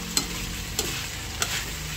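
Meat sizzles in a hot pan with steady frying hiss, broken by three sharp scrapes as it is stirred, close and without talk.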